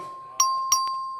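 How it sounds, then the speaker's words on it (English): The clerk rings the voting bell in the Texas House chamber, two quick bright chime strikes over a sustained ringing tone, clear and fairly near. "Clerk will please ring the bell"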